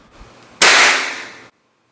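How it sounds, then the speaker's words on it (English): Dry fire of a GAMO Varmint .177 air rifle: a single sharp, loud crack followed by a short hissing burst of air that decays over about a second, then sudden silence. "did this guy just dry fire his rifle?"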